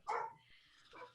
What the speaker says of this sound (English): Sailor's barking like uncontrollably.